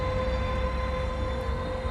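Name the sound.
GO Transit train at the station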